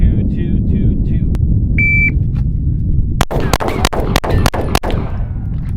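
A Springfield Hellcat Pro OSP pistol with manual safety fires a series of seven or eight sharp shots in quick, uneven cadence during drills, following a shot-timer beep and steady background noise.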